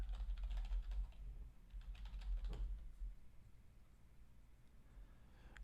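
Soft, quick keystrokes on a computer keyboard patter in an irregular run, fairly faint and close, then fade to near quiet.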